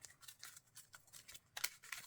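Playing cards being shuffled during a Marvel Champions card game, a quick run of soft riffling flicks and snaps, close and quiet, ending in a brighter cluster of card clicks.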